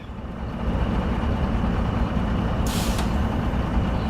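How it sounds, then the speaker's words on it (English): A crane truck's engine runs with a loud, steady rumble, then its air brakes give a sharp, brief hiss of released air partway through. "Okay, crane truck."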